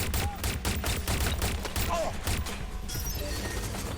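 Bursts of gunfire crackle through a Watch Dogs Legion shootout, rapid repeated shots in clusters over a busy background, with some game sounds and a voice partly mixed in.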